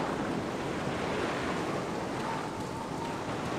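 Waves surge and crash far below a misty cliff in the Black Mirror adventure game, a steady, dense wash of surf with wind-like hiss that continues evenly throughout, with no talking.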